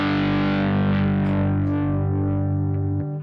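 A loud distorted electric guitar chord with open strings left ringing, the A string muted, rings out as one sustained chord for about three seconds, then cuts off sharply near the end.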